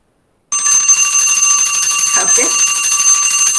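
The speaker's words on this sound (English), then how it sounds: "Okay, so this is timer." A loud, continuous electronic ringing alarm from an online quiz countdown timer starts abruptly and keeps buzzing steadily, with a faint voice briefly audible underneath.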